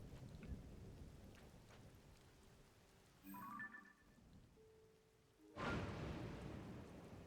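A lightning storm rolls through Zelda: Tears of the Kingdom, with quiet rainy ambience, a few brief tones in between, then a sudden broadband crack of thunder that lingers as a rumbling wash.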